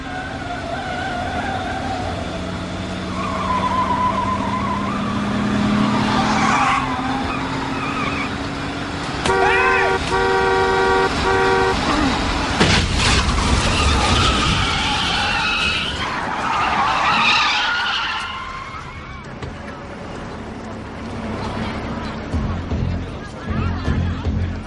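A car driving fast, its tires skidding and squealing, with a horn blaring in sustained blasts partway through; engine roar and tire noise continue, and voices shout over the commotion.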